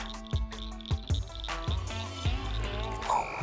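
A frog croaks in a series of short, low pulses near the microphone during frog gigging outdoors, with a steady background hum and a few sharper clicks toward the end.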